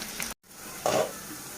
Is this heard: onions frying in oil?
yes